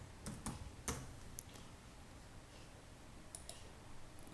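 Keys on a computer keyboard are typed in a quick cluster of light clicks, then a few isolated taps, then a final pair of keystrokes, all close and fairly quiet.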